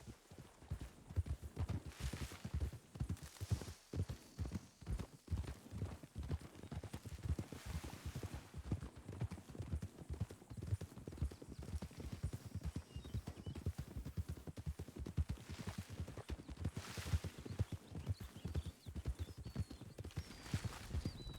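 Horse hooves in the Red Dead RP game thud in a steady, rapid galloping rhythm throughout, close and moderately loud over faint outdoor ambience.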